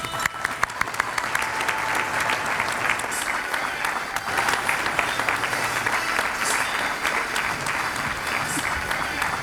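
A crowd at the United Way of the Lower Eastern Shore 2014 awards claps warmly for award winner Sophie Fleming, dense steady applause sustained for several seconds with a few voices faintly mixed in.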